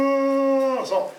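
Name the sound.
voice imitating a moaning howl heard in the woods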